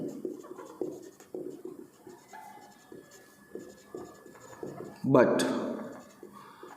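Pen or marker scratching across a board during an accounting lecture, steady short strokes running beneath a teacher's continuous talking, with a louder bump near the end.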